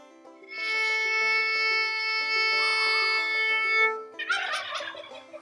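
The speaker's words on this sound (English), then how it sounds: "This is what the A sounds like." A violin bowed on its open A string holds one steady, clean note for about three and a half seconds, then turkeys gobble loudly close by.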